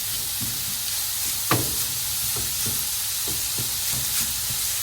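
Minced beef sizzles in a hot pan as it is broken apart, with a steady hiss under repeated soft scraping and tapping strokes of a utensil, fairly close and without talk.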